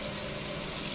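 Hot water runs steadily from a kitchen tap into the sink drain while chili is being cooked, a close, even rushing hiss with no pauses.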